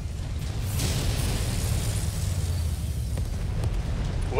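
Booming air support strike in MechWarrior 5, a sustained heavy low rumble of explosions rolling on for several seconds with scattered bursts, loud and close, with no talking.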